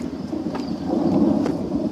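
Thunder from an approaching storm rumbles low and steady, swelling into a long rolling growl with a few faint crackles over it, outdoors with no talk.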